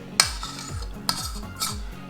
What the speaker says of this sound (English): You might want to get a spoon to scrape out what's in here.